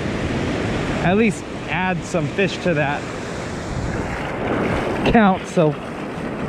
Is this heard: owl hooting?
no